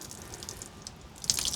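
Car wash equipment being rinsed out under running water, a short splashing trickle that grows louder near the end, close and without talk.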